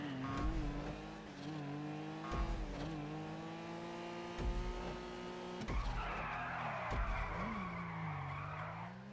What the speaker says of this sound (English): That was a good drift.